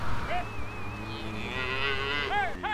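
Cattle on a ranch low and moo several times, with drawn-out bellowing calls close by over a steady outdoor background.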